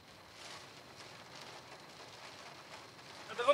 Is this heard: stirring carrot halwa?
no